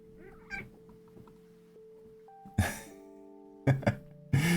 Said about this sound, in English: The cat's in front of my mic.